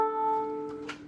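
A beginner's violin sounds the note A on the A string, a single sustained bowed tone that fades near the end, heard alone and close.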